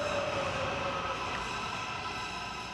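MARTA underground train in Atlanta rumbling along the track, a steady loud roar with a faint high squeal, continuous throughout with no talking.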